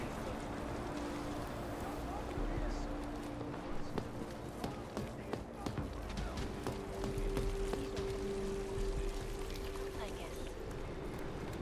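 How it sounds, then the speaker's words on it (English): Steady, rushing running water in the video game Deus Ex: Mankind Divided, a constant broad wash of noise that stays even for the whole stretch, with faint scattered clicks on top. "That's a lot of water."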